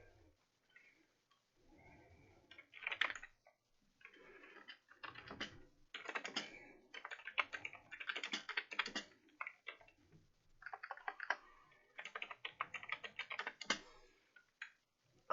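Someone types on a computer keyboard in a chat app, a quiet, close, uneven clatter of keystrokes in bursts with short pauses, no voices.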